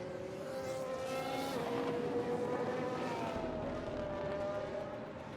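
Formula 1 race cars speeding past with Red Bull in the lead, a loud sustained engine whine with pitch sliding as the cars pass, and a commentator's voice faintly under the roar.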